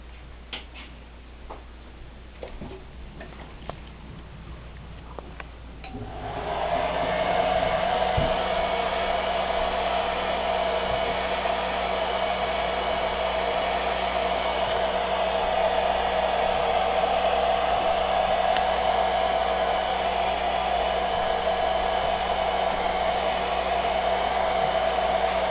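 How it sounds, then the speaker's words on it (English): A hairdryer on a low or medium setting blows steadily close by while drying burn scar makeup, a constant broadband whoosh with a hum, preceded by a few seconds of quieter rustling and ticking before it starts. "keep the hairdryer on either a low or medium setting and pass it back and forth over the area that you're trying to dry"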